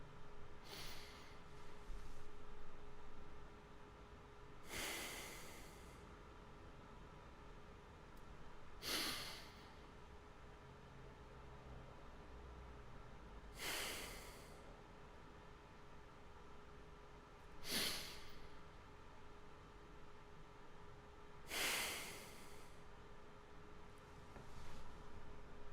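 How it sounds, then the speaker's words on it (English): Three deep breaths in and out, each a slow inhale followed by a longer exhale, close and soft over a quiet room hum, spaced evenly several seconds apart. "Let's take 3 deep breaths."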